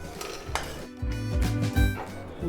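Long pepper dry-roasting in a kadai gives sharp scraping and clattering bursts from stirring, with light crackles, close and fairly loud, and no voices.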